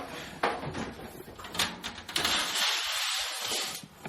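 A sliding door in a sauna room rolling open close by, a rumbling scrape with a few knocks, then a brighter hissing slide before it settles.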